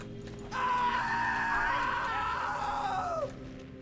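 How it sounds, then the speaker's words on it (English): A drawn-out, wavering scream from Goat Simulator, starting abruptly and holding loud and strained for nearly three seconds before trailing off in a falling wail over low game background hum. "That scream sound effect was from something. It's from this game."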